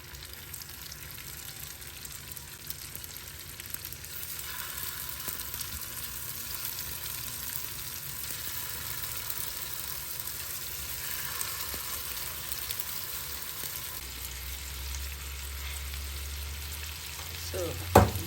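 Meatballs fry in a pan with a soft, steady sizzle and occasional scraping, fairly faint and continuous, with a low thump of handling toward the end.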